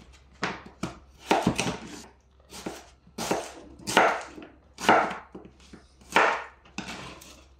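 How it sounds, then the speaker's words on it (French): A knife chops a carrot into small pieces on a board, about eight firm, evenly spaced strokes at a moderate pace, close and fairly quiet with no talking. "je vais en faire des petits bouts."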